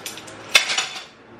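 Plates and cutlery clink in a home kitchen as dishes are put away, with a sharp clatter near the middle and lighter rattling around it, close by with no voices.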